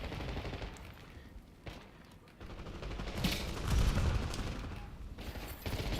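Gunfire from hip firing in a shooter game comes as a dense, continuous rattle of rapid shots with a rumbling low end, swelling and dipping over a few seconds.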